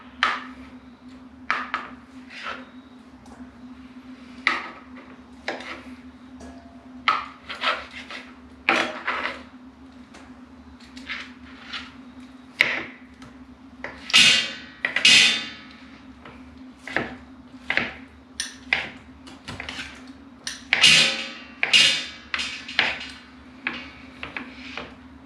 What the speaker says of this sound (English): we're going to dice this chicken up